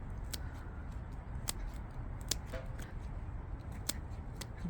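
Sharp snips of secateurs or scissors cutting geranium stems during outdoor repotting, several crisp clicks spaced irregularly over a soft rustling background of handling leaves and soil.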